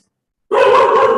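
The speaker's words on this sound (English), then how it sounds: "And those are my dogs greeting all of you." A dog barks loudly and close by, coming in abruptly after silence as one short, sharp burst.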